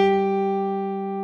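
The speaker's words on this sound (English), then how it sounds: "an octave above that would be this G." A single sustained pitched note, clear and steady with rich even harmonics, fading slightly over about a second as part of a demonstration of the note G and its octave, heard alone with no talk.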